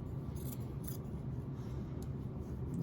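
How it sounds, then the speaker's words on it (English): Scissors cut around the sleeve of a T-shirt, soft repeated snips and rasping fabric sounds in short bursts over a steady low background hum, close and fairly faint. "I'm just using scissors just to cut, and I just cut around the sleeve area"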